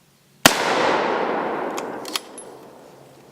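One sharp, loud gunshot cracks close by and leaves a long, fading echo, followed by a couple of faint metallic clicks from handling the weapon.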